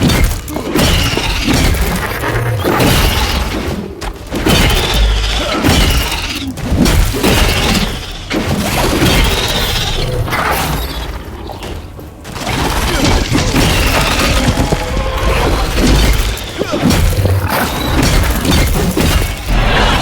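Heavy shattering blows land in Atlas Fallen: Reign of Sand combat, with a dense run of loud crashing, smashing impacts and debris bursts that keep up almost without pause.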